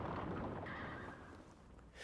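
Horses galloping alongside a Citroen in a film stunt, a dense broadband rumble of hooves with a neigh at a distance, fading slightly toward the end.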